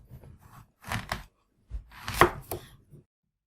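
Knife slices an apple in half on a board, a few short crunching cuts in two brief clusters with a sharp snap as the blade goes through, close and crisp, no talking.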